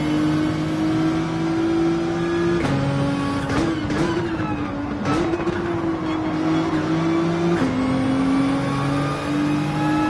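Race car engines drone steadily in a sim racing game at Watkins Glen, close and loud, with pitch dropping and climbing through several gear shifts and a few sharp bursts as cars pass.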